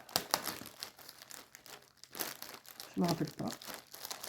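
Plastic packaging from a Temu parcel crinkles and tears in close, irregular bursts while someone speaks in French over it.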